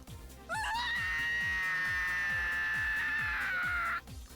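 A long, loud scream from a character in the Clannad visual novel game rises sharply and holds for about three and a half seconds before breaking off, with steady game music beating underneath.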